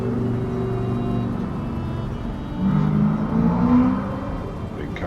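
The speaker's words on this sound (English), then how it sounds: "Big car down by the road." A car passing on the road outside, heard as a low engine hum that swells in the middle and fades again, fairly distant behind a steady background drone.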